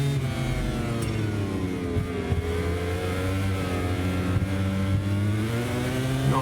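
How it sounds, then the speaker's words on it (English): A racing motorcycle in the video game MotoGP 24, a Ducati, its engine screaming at high revs, a steady loud whine that rises and falls with gear shifts throughout. "Bike's really screaming there. The revs are high."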